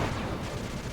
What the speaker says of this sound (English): That's a missile, that's a missile